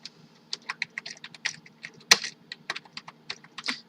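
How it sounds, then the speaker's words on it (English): Rapid, uneven keystrokes on a computer keyboard as text is typed, a run of close, crisp clicks with one sharper tap midway, alone over a faint low hum. "I type some text"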